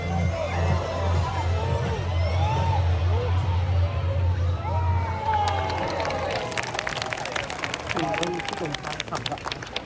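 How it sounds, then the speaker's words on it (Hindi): A busy Taipei street market fills with crowd hubbub, a dense, steady babble of many voices and shuffling movement, with a nearby voice talking over it and scattered clacks and claps toward the end. "भीड़ ज्यादा लगी है"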